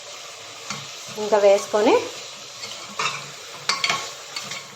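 Spoon stirring mutton curry in a pan after two spoons of chili powder go in, with scraping strokes and a gentle sizzle beneath, while a person speaks briefly.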